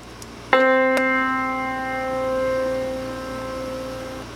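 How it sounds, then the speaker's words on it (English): A single C4 note struck on a piano, a clear attack followed by a long ringing decay of several seconds over a faint background hum. "we're going to analyze a C4 struck on a piano."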